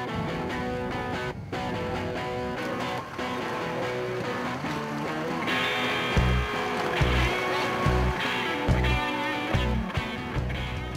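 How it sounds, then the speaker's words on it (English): Blown alcohol displacement racing boats at the Hazelwood World Championships in 2007 make a steady, loud engine drone on the water, with heavy throbbing low pulses breaking in through the second half. "boats going into the water now for the blown alcohol displacement class"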